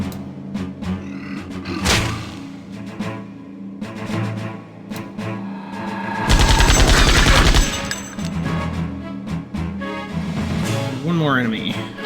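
Gunfire in the role-playing video game Septerra Core: a loud, dense rapid burst of shots in the middle stretch, with scattered thuds, game music and other effects around it, while a person talks over parts of it.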